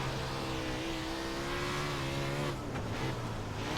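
A non-wing dirt car on the Bristol dirt track in iRacing howls at steady high revs with clear engine harmonics, then the pitch dips and shifts near the end as the car slows, with some tire scrubbing.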